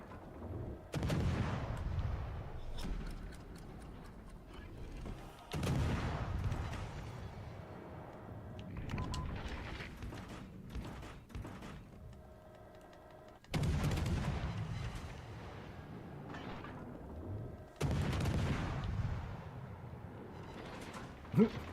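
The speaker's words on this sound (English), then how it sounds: "Landed another couple bombs." Bombs land and explode in World of Warships: Legends, several heavy booming blasts spaced a few seconds apart, each with a sharp onset and a rumbling decay, under occasional talk and game noise.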